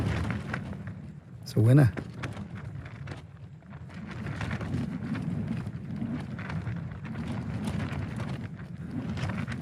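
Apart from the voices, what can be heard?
wind picking up at a campsite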